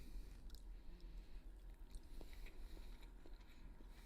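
Someone chews a freshly baked Greek meatball seasoned with cumin and mint, soft, quiet, wet mastication sounds close up, with faint bites and squishes in a still room.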